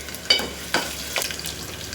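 Ginger, green chilli and chana dal sizzle in hot oil in a pan for masala upma, a soft, steady frying hiss broken by a few sharp stirring scrapes.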